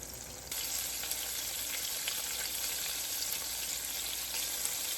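Chicken fried steak, southern Georgia style, sizzles and fries in a pan with a steady, dense crackle that grows louder after a brief quieter start and holds without talk.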